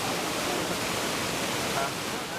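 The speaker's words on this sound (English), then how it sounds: "The waterfall in Monteverde provides a perfect break for hikers." A waterfall in Monteverde, Costa Rica, giving off a steady, loud, broadband rush of pounding water that stays constant and close the whole time, with no voices.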